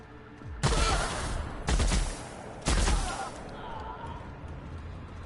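Three loud, booming bursts of gunfire from a first-person shooter in The Outer Worlds, spaced about a second apart, each with a rolling tail, followed by fainter background clatter.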